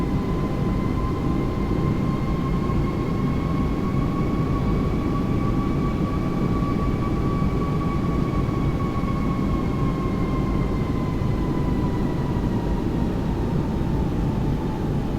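An Airbus A330 airliner on approach to Colombo airport at sunset gives a continuous, steady engine roar with a sustained whining tone throughout, heard from inside the aircraft.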